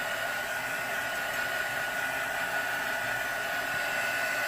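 A hair dryer blows steadily and loudly on stencil paint, a constant close whooshing roar with no change in pitch from start to finish.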